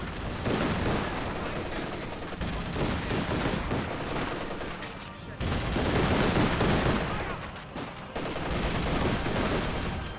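Rifle volleys and mixed small-arms fire from a Company of Heroes 2 battle against Volksgrenadiers, dense overlapping bursts and cracks in waves, loud and continuous, with a brief lull midway.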